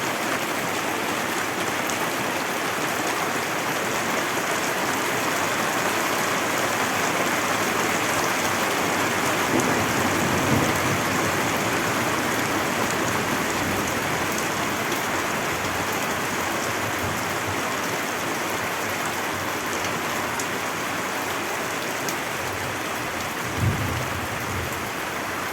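Steady rain pours outdoors in a constant broadband hiss, with a faint low rumble of distant thunder rolling underneath; no one speaks.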